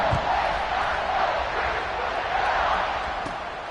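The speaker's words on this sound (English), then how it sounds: "this crowd is feeling themselves after that last drive" A football stadium crowd at a Buckeyes versus Badgers game roars steadily after a touchdown, a dense and sustained wall of cheering that stays loud throughout.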